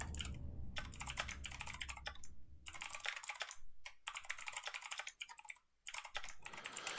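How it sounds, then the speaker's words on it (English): A computer keyboard is typed on in rapid, uneven bursts of quiet, close clicking, with brief pauses between flurries and no talking. "I'm mashing the keyboard for lore-specific stuff that I'm taking down here."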